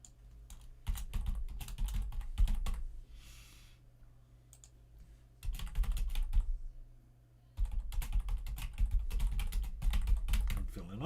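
Bursts of rapid computer keyboard typing, close and fairly loud, come in three clusters separated by quieter pauses with a low steady hum underneath, as values are entered into a web form.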